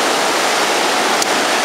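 Ocean surf at Monte Gordo beach, a loud, steady broadband wash of breaking waves heard up close, with a faint brief tick near the end.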